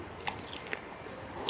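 A bite into the crunchy grilled skin of a Polish sausage from a street stall gives a couple of sharp, close crisp snaps, followed by quieter chewing crackles.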